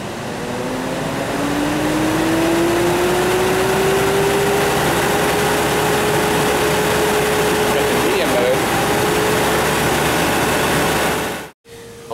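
A commercial-grade flower bud trimming machine's fan runs on low speed with a steady whirring drone and a faint rising tone as it spins up, then cuts off abruptly near the end.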